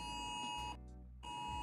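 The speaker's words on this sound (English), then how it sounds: "Emergency alert, guys." Phone emergency alert for a flash flood warning blares a loud, harsh sustained tone that briefly drops to a quieter pitch before resuming, with no speech over it.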